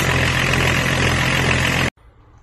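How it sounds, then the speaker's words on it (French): A BMW E36 325TDS diesel engine, freshly fitted with a new Bosch injection pump, runs loud and steady with a low, even idle clatter for about two seconds, then cuts off abruptly into near silence. "démarrage du 325 TDS avec la pompe à injection toute neuve"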